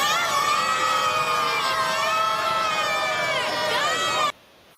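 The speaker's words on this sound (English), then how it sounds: "Hey, Chloe's team, give me a big cheer for the Rays before we let you go" A children's team cheers for the Rays, a loud sustained crowd of young voices shouting and whooping together for several seconds before cutting off abruptly.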